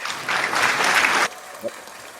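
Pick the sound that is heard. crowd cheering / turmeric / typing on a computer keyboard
crowd cheering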